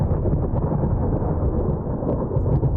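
Thunder from a lightning strike in a video game, heard as a dense, low, continuous rumble that stays loud and steady for a few seconds with no voices over it.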